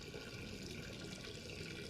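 A tap runs in a steady, broadband rush of water. It stays faint and continuous from start to finish, with no voices over it.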